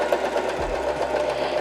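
Janome 311 sewing machine stitching at stitch length 2, a steady rapid motor whir with even mechanical rattle running throughout, close and continuous with no talk.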